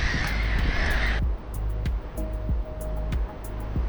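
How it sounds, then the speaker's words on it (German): Black-headed gulls at the Eider barrage on the North Sea coast give harsh, repeated squawking calls, at first over a loud rush of wind and surf, then in clearer bursts against a steadier background. "Irgendwelche Lachmöwen."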